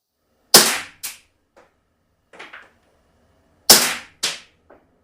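A Crosman P1 Taurus PT-92 CO2 blowback BB pistol firing outdoors in two short full-auto bursts, each a pair of sharp loud cracks followed by faint clicks and pellet impacts, silence between, no talk.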